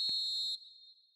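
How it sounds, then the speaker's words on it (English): A referee's full-time whistle in the eFootball 2026 video game: one long, loud, steady shrill blast with no talk, then a fainter tone trailing away. "Referee looks at his watch and blows his whistle"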